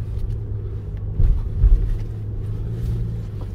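A 2022 Toyota RAV4 Hybrid drives over loose beach sand at Oceano Dunes, a steady low engine and drivetrain rumble from inside the cabin with a couple of heavier thumps partway through.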